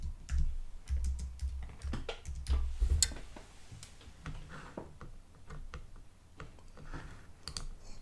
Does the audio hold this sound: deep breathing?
no